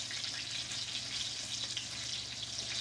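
Green tomatoes fry in hot oil with a loud, steady, continuous sizzle and crackle that stays close and unbroken, with no voices over it.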